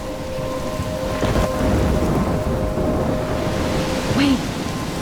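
Stormy weather in the game Life Is Strange: dense, steady rain pours throughout while a low rumble of thunder rolls underneath, with a faint whistling tone near the end.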